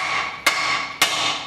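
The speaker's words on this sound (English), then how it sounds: "So you just basically just hit the side there with the hammer." Two sharp hammer blows strike the side of a car's steering arm to pop the track rod end free, the first just under half a second in and the second about half a second later, each crisp, close and alone.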